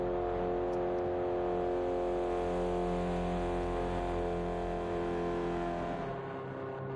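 Subaru BRZ GT300 race car in a racing video game, its engine droning steadily at high revs for several seconds with a constant tonal hum, tapering slightly at the end; no talking.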